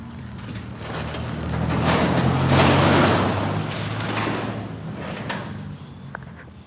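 A garage door is hauled open by hand, a long rolling, scraping slide that swells in the middle and tapers off, with a few faint clanks near the end and no voices.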